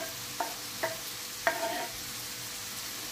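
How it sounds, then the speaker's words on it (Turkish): Onion and red kapya pepper stirred into frying mushrooms for a mushroom bulgur pilaf, three soft scraping stirs over a faint steady sizzle, close and quiet with no talking. "Şimdi de soğanımızı ve kapya biberimizi koyuyorum içine."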